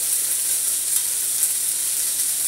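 Chicken with a light cornstarch coating fries in a pan, giving a steady, close, bright sizzle with small pops throughout and no talking.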